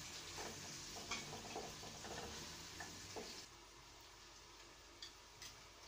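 Chopped onions dropped into spice paste frying in a pan for Bangladeshi-style beef tongue, giving a steady close sizzle with stirring scrapes and small pops that eases off partway through.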